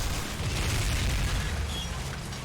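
Sticky bombs blow up against a tank in the WWII shooter Call of Duty: Finest Hour, a loud, continuous booming rumble with heavy low-end roar that barely lets up over a couple of seconds.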